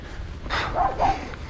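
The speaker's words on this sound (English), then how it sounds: "watch out for the attack dog." A dog barks twice in quick succession, close and fairly loud, over faint outdoor noise on a mountain bike trail in Shropshire.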